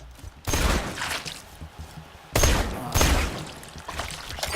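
Gunfire in the video game Borderlands 2 while shooting stalkers: two rapid bursts of shots a couple of seconds apart, loud and close, with rattling tails between.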